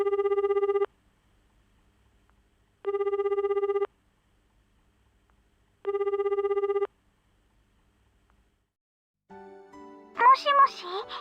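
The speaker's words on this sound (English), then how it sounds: "I call Yutaka on my cell phone." A cell phone rings three times in repeated electronic bursts with pauses between them, then a voice answers and speech begins.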